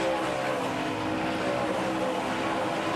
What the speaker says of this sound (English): I love you can hear how sharp that corner is with those tires squalling over the engines